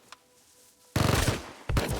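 Gunfire from a gun in the video game Rust: two loud bursts of rapid shots, the first lasting most of a second, then a short pause and a second burst, with quiet ambience before.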